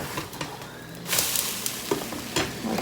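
Crêpes cooking in a pan give a steady sizzle with occasional scraping and stirring noises, close and continuous throughout.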